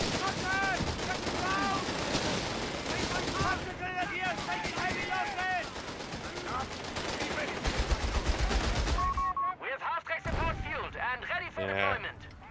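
Heavy video game gunfire with booming artillery-like blasts and rapid shots from pack guns, dense and continuous, with pauses and sharp bursts near the end.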